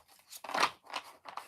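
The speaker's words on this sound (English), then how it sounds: "let me shuffle up these cards a little bit" Tarot cards being shuffled by hand, a series of short papery riffles and swishes at close range with brief pauses between bursts, no talking.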